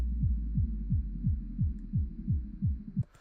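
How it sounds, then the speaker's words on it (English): Punchy kick drum in a fast melodic drum and bass track, a steady run of about nine deep thumping hits with a falling pitch sweep, over a low sustained bass hum, cutting off near the end. "we can hear this kick that's happening"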